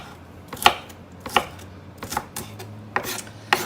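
A knife chops through a wilted onion on a cutting board for a stew, giving six sharp, evenly spaced thuds about two-thirds of a second apart, close and distinct with no voices.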